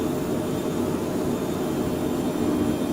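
Phenom 100 jet in Microsoft Flight Simulator, climbing in flight, with a steady, loud, continuous engine drone and a broad rumbling whine that holds without change.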